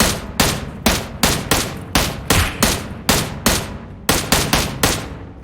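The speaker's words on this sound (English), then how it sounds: "You can hear a lot of bullets." Bursts of gunfire in a battle royale video game scrim, about a dozen sharp, evenly spaced shots cracking loudly in a steady rhythm, each with a short decaying tail.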